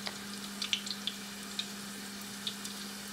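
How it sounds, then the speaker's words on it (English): Crab and cheese wontons frying in hot oil, giving a steady close sizzle with scattered small pops and crackles, alone with no voices. "you can hear them sizzling, so you know that oil is all good"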